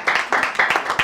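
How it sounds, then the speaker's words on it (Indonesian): Congregation at a church service clapping for God, a few quick close claps in an uneven rhythm, brief and moderately loud. "Berikan sorak-sorai buat Tuhan."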